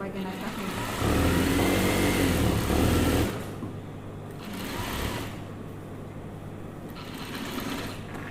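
A sewing machine runs as it stitches batik trousers. The mechanical whirring is loudest in a burst of about two seconds, then continues more softly under a voice talking throughout.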